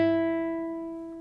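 The open high E string of a guitar, the thinnest first string, plucked once and left to ring alone, a clear bright tone fading slowly and evenly.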